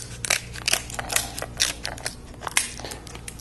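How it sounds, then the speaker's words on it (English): Curved kitchen shears snip up the shell of boiled crab legs, a quick series of sharp crunching cuts and cracks close by, with no talking. "So you cut up one side, flip it over, cut up the other side, it goes right through there pretty easy."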